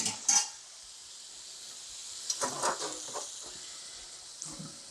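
Pasta tossed and stirred through shrimp scampi sauce in a pot after being strained, a soft sizzling hiss under a few scraping, clinking utensil strokes in the middle and end, fairly quiet.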